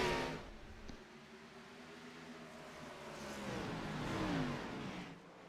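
Race cars accelerate on a green-flag restart at Richmond, engines revving up together in rising, droning pitch sweeps that build louder toward the end, heard as a pack of cars.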